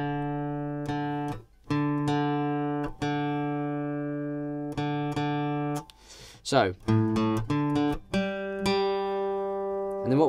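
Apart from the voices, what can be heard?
guitar D string being tuned up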